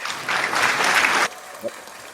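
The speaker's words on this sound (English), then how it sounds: "Can you hear that cheering?" A crowd cheering and clapping in a loud burst for just over a second before it cuts off abruptly, followed by a brief faint sound.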